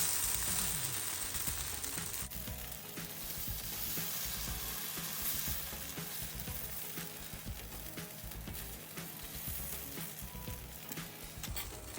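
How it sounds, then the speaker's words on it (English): Thin corn pancake batter sizzles in oil on a hot skillet, a steady, dense crackle running evenly from start to finish with no one speaking. "Let's heat up the skillet. I have spread some oil and just add our batter."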